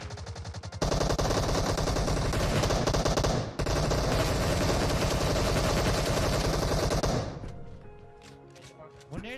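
Rapid automatic gunfire from the video game PUBG, two long sustained bursts separated by a short gap, loud and close, then trailing off into quieter game sounds.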